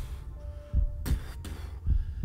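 A heartbeat sound effect for a D&D 5e tabletop game pounds in low, muffled thumps, paired beats repeating twice under a soft hum, heavy and close.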